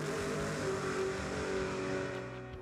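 A race car engine revs steadily at a drag-racing event, holding a loud, sustained drone with the clutch in while the tire turns, easing off slightly toward the end.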